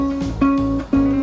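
A single ukulele note fretted right next to the metal fret rings out clean, plucked three times in quick succession, close and alone.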